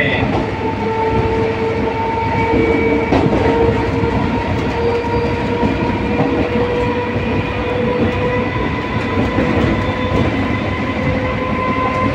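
EMU local passenger train running from BDC to Howrah, a loud steady rumble of wheels on track with rhythmic clicking and whining motor tones, heard from on board.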